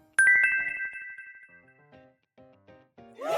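A telephone ringtone sounds alone: a bright electronic melody of sustained tones followed by a short run of plucked notes, ending in a rising chime flourish.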